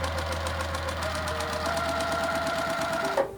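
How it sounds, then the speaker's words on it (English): Sewing machine stitching a quarter-inch seam joining quilt patches, a steady rapid mechanical whir with rhythmic needle ticking throughout, close and continuous, stopping abruptly near the end. "I'm gonna put these right sides together, and we are gonna sew a 1/4 inch seam."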